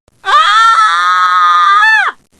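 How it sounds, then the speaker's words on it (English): A woman in a fur coat lets out a single loud, sustained scream lasting about two seconds, rising sharply and breaking off at the end, alone with no talk around it. "Then she screamed."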